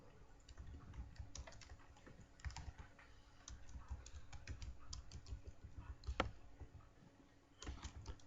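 Steady stream of key clicks from a computer keyboard while a test email is typed, dense irregular tapping with a few louder strokes, close and alone with a faint room hum underneath.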